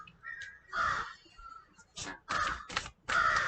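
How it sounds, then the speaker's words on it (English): Crows caw outdoors in short, harsh calls, first a few scattered cries and then several loud, close caws in quick bursts over a quiet background. "I can't believe these birds"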